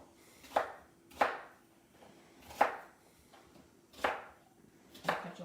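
Five evenly spaced knife chops on a cutting board as vegetables are cut roughly for a Thanksgiving turkey, each a crisp, close thud with brief quiet between, no talking.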